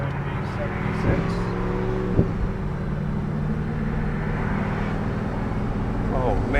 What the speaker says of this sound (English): we're going to take it out here on the main roadway, get it up to speed a little bit